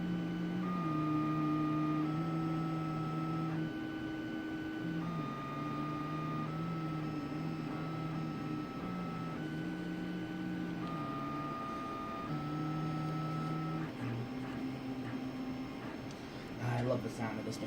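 An Ultimaker 3D printer runs a print, its stepper motors whining in shifting sustained tones that step up and down in a steady pattern, with faint clicks near the end.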